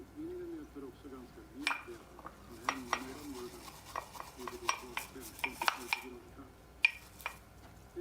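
A man washing dishes in an advert: intermittent clinks and clatters of dishes and cutlery in a quiet room, with soft scrubbing and a low murmuring voice beneath.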